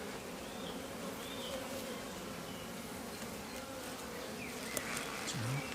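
Honeybees, drones among them, hum in a dense, steady drone at an open hive, fairly faint and continuous, with a few louder buzzes passing close near the end.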